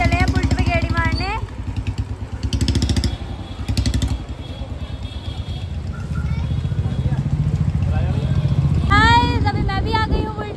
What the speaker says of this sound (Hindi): गाइस देखो अभी ये लोग चले हैं बुलेट पे गेड़ी मारने